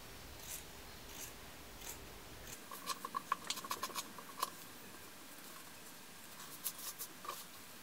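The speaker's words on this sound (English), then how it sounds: "You want to take your small scissors and cut as close as possible to the line" Small scissors snip fabric close to a stitched line while a bow tie dress is being made, giving a few faint, quick cuts and light rustles in a quiet room.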